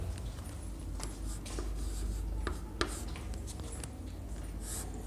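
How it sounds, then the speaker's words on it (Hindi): A pen scratches across paper in short strokes and light taps, close and quiet, with a faint steady hum underneath. "चलिए लिखते हैं इसको भी।"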